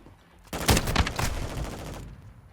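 Rapid SMG fire in Call of Duty Modern Warfare II, a loud, dense burst of automatic shots lasting about a second and a half, close and aggressive before cutting off abruptly.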